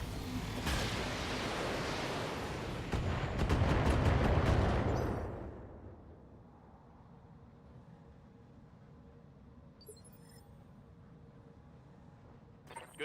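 BattleTech mech weapons fire in a loud, dense volley of blasts and rapid bursts lasting a few seconds, then fade into a low rumbling ambience with a faint mechanical clatter later.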